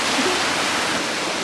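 Rushing white water churns below a dam in Colorado, a dense, continuous roar of broadband noise that is loud and steady from start to finish, with no voices.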